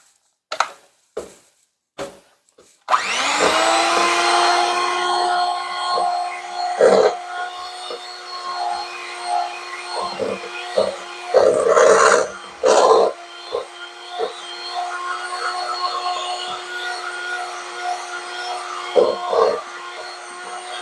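An electric mixer whirs steadily through tart dough ingredients, loud and close, after a few sharp knocks at the start, with intermittent clatters and pauses as the bowl is worked.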